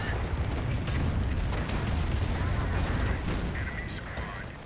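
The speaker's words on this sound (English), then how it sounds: "And here comes a Calliope." Calliope rocket artillery fires in the Company of Heroes game, a dense, continuous roar of launches and blasts that stays loud throughout and fades slightly at the end.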